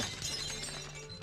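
A glassy shattering burst from a card being destroyed in the Marvel Legendary digital card game, a dense, bright crackle of breaking fragments lasting about a second, fairly quiet and with no voices.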